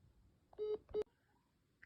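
Two short electronic telephone tones on a Securus prison phone call, close and clear in a quiet line, followed by faint line hum.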